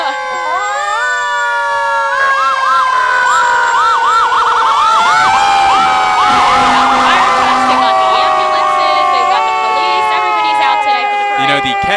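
Kent Fire Department fire trucks pass in a homecoming parade, their sirens wailing loud and close for the whole stretch, several siren tones overlapping and sweeping up and down over a steady street din.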